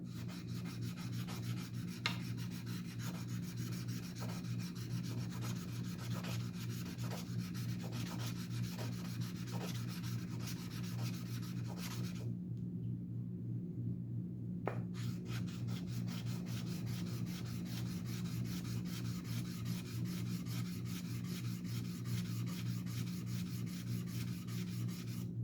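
Sandpaper rubs continuously back and forth on a titanium knife scale for a Demko AD20.5 in a steady rasping rhythm at close range, pausing for about two seconds, then resuming over a constant low hum.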